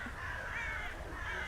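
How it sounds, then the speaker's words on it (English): Crows caw overhead in a noisy outdoor setting, with harsh repeated calls that rise and fall above a constant wash of ambient noise. "the birds here just above me,"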